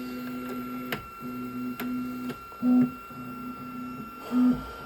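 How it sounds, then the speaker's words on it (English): A 3D printer homes its axes after finishing a print, giving a steady stepper-motor whine in short runs broken by clicks and two brief louder buzzing bursts, heard alone. "Now I'll just home this after every print."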